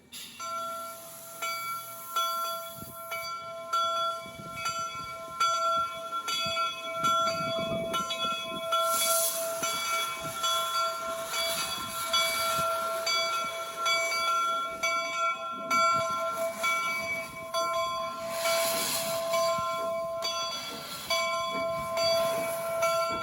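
Jupiter 119 steam locomotive at a Golden Spike reenactment, its whistle blowing in long sustained blasts with a bell ringing alongside, loud at moderate distance, with rumbling chuffs beneath.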